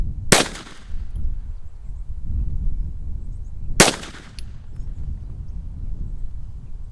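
Two sharp, loud gunshots from a Kel Tec PMR-30 pistol at an outdoor range, spaced about three seconds apart, each with a short ringing tail over a low rumble of background noise.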